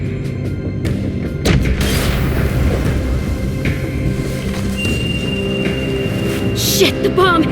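A bomb explodes in The Walking Dead Telltale final season, a loud booming blast with crashing debris that swells and rumbles on, mixed into a dense game soundtrack with a voice shouting over it.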